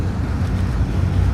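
NYC ferry cruising the East River, a steady low engine rumble blended with continuous wind buffeting the microphone, close and constant with no talking.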